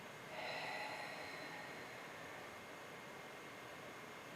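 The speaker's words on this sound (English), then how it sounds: "and breathe out" A slow breath out during a gentle movement warm-up exercise: a soft, sustained airy hiss begins half a second in and trails on quietly to the end, close and faint, with no talking.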